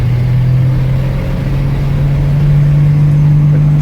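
An old yellow truck with no working power steering drives along a road, its engine a loud, steady, unbroken drone with a constant low hum that never lets up.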